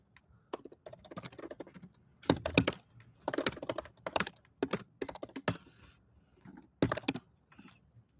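Computer keyboard clacking in irregular bursts of quick keystrokes with short pauses between, close and moderately loud, as code is written for a backend application.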